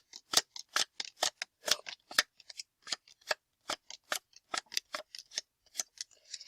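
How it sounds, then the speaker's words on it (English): Playing cards dealt one by one off the top of a deck, about two dozen crisp, close snapping flicks in a quick, slightly uneven rhythm, with no voices. "I'm going to deal about 16 cards from the top of the deck"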